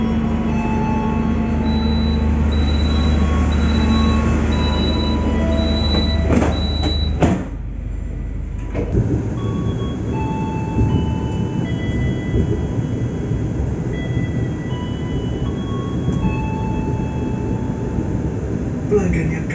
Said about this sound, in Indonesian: Ini keretanya akan berangkat, tapi pintunya itu belum tertutup.